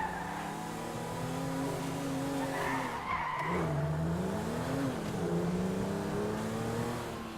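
Car in the GTA 5 video game driving and skidding, with loud continuous engine drone and long tire squeals rising and falling throughout, sustained close and steady.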